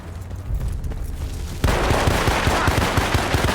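Enemy gunfire in the video game Battlefield: Bad Company, starting after a rumbling lead-in as a loud rapid burst of automatic shots with dense booming crackle, continuous and close.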